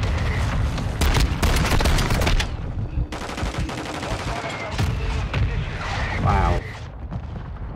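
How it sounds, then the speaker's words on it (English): Mortar strike explosions in Call of Duty Modern Warfare II on PS5 hit as a loud, dense barrage of booms and rapid gunfire-like cracks, with a brief exclamation from a player. "I thought the mortar strike had finished, but no"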